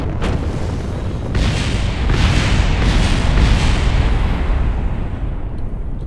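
A lander crashing and blowing up on a landing pad in Kerbal Space Program, a loud sustained rumbling explosion roar with a burst of crackling debris that stays dense and heavy for the whole stretch, with no voices.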